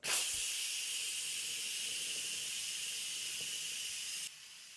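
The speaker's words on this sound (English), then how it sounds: "for venting, I'm always going to use a spoon or something that I'm not venting it right at my face and touching it" Steam vents from an Instant Pot pressure cooker in a strong, continuous close-up hiss that holds steady for about four seconds, then drops suddenly to a quieter hiss, with no talking.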